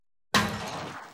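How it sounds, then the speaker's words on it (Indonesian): A roof tile cracks and shatters in one sudden close crash, then a short rattling tail of breaking pieces. Silence comes before it and no one talks. "Genteng pecah nih."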